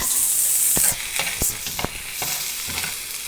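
Sautéing in hot cooking oil gives a bright steady sizzle, joined by several sharp scraping stirs of a utensil against the pan, close and fairly loud with no talking.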